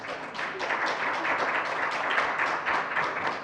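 Audience applause thanking a panel of speakers after a discussion of debt-related driver's license suspensions in Ohio, a steady dense wash of many hands clapping at close range, sustained evenly throughout with no voices over it.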